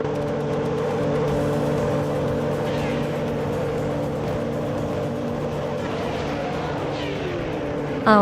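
Race cars in a video game roar together at the start of a sprint on a long track, led by a 1996 Sauber C15, a dense steady engine drone with rising whines near the end.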